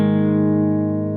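A guitar chord barred with the index finger across the 4th and 3rd strings at the 2nd fret rings out as one sustained, steady strum, loud and close with no voices.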